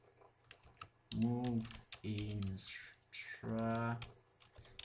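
Typing on a computer keyboard, a steady patter of key clicks running throughout under a voice, which speaks in short bursts over the tapping.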